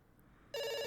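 A telephone rings unanswered. After a quiet half second, one loud, harsh electronic ring burst starts abruptly and holds steady to the end.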